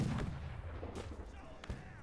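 Union cannon firing in a foggy Civil War line-battle game, with a few muffled, distant booms and gunfire cracks spread across a noisy battlefield background.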